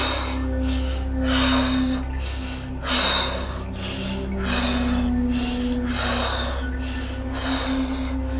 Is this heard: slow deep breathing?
yes